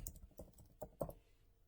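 Quick keystrokes on a computer keyboard, a short run of soft, close clicks and taps at an uneven pace with no voices.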